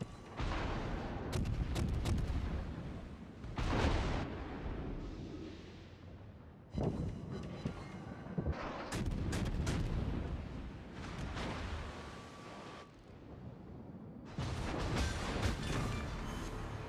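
Naval gunfire in World of Warships, heavy booming salvos and explosions rolling in repeated bursts with rumbling tails, broken by brief lulls, continuous and loud over seventeen seconds.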